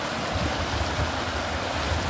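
Fast-flowing flood water of the Ghaggar river rushes loudly and continuously nearby, a dense, steady roar of churning water with no pauses.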